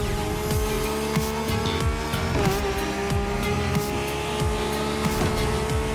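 Lamborghini race cars roaring through a race in The Crew Motorfest, engines droning loudly and steadily with repeated revving sweeps, gear shifts and tire squeal as cars pass, no talking.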